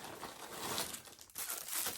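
Plastic bags, the kind used for packaging cakes and posting parcels, crinkle and rustle continuously at close range with brief pauses between handlings, with no talking.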